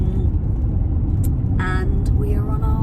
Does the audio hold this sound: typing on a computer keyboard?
no